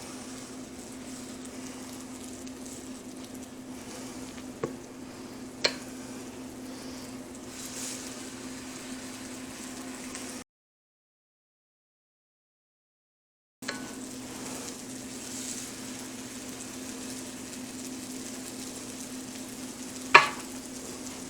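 Small low-carb keto crêpes frying in a pan, a soft steady sizzle with a few faint clicks, broken by a brief silence midway and resuming.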